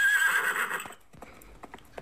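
A pony gives one loud, drawn-out whinny, followed by a few crisp hoof clip-clops that sound fainter and sparser at the end.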